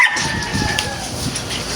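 A small white male nano exotic bully puppy, about three and a half months old, yips and whimpers in thin high cries over a continuous noisy background at a seller's gathering.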